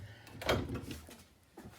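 Pantry cupboard doors in a new camper swing open with a soft wooden knock and brief rattle, a single close event followed by quieter handling noise.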